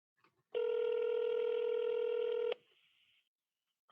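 A steady two-second telephone tone sounds loud and unbroken before cutting off abruptly, followed by a fainter short tone and then silence, like a call being placed over the line.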